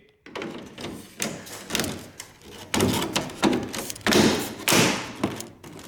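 Kidney grilles pushed into the nose of a restored BMW E39 M5, heard as a string of close, dull plastic thumps and knocks, several spaced presses and taps with no talk.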